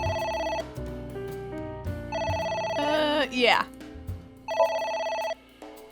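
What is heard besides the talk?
phone ringing in a video game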